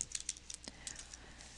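Brief burst of computer-keyboard typing as names are entered into a sharing field, a few quick clicky keystrokes, close and fairly quiet, with no talk.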